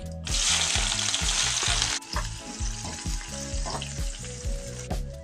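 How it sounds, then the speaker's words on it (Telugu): Chopped onions go into hot tempering oil with dried red chillies, giving a loud, bright sizzle that drops to a steadier fry with light stirring scrapes, under continuous background music and no talk. "కోసిన ఉల్లిగడ్డ ముక్కలను వేసుకుంటున్నాను ఫ్రెండ్స్ తాలింపులో"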